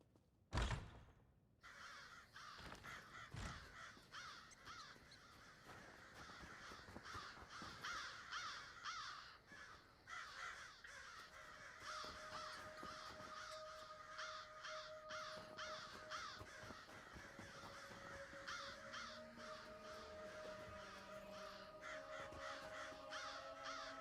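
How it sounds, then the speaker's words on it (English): Crows caw repeatedly around a shed in Elder Scrolls Online's Western Skyrim, a steady chorus of calls over an ambient bed after a sharp thunk at the start. "Seems a bit dodgy, there's all these crows hanging around this shed."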